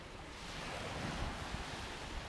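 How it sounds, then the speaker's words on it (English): Sea waves at the beach make a steady, broad roar of surf mixed with wind buffeting, continuous and fairly loud with no pauses. "I can see the sea, actually."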